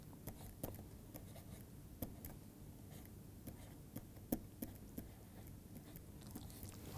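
Chalk or pen scratching out writing on a board during a math lecture, a run of faint strokes and taps with a steady low room hum underneath, no talking.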